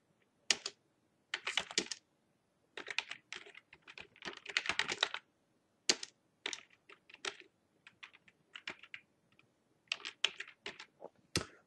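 Someone typing on a computer keyboard while entering text in Word: bursts of quick, close key clicks separated by short silences, with occasional single harder taps.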